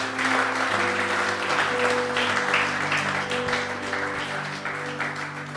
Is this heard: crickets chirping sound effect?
no